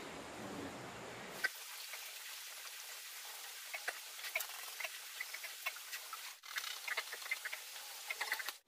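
Newborn two-day-old piglets lapping and sucking up an electrolyte solution. Busy wet slurping and smacking ticks patter continuously and close, with no talk after a brief noisy moment at the start.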